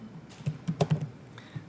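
Fingers tap a computer keyboard in a short run of soft, close keystrokes: a few irregular clicks bunched together, then a last isolated tap, with no voices.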